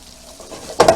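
Vegetables for coconut curry shrimp frying in oil in a pan, a soft sizzle that suddenly bursts into a louder, crackling hiss near the end.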